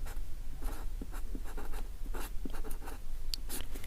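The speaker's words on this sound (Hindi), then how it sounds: "अब लिखेंगे यहाँ पर" Pen scratching steadily on paper during a Class 10 maths lesson on Euclid's division algorithm, with short repeated strokes that sound close and fairly loud over a constant low room hum, and no talking.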